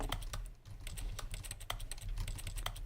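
A filing cabinet in The Stanley Parable: Ultra Deluxe clicks like an old keyboard, quick irregular taps in clusters, crisp and fairly quiet, with no voices over them.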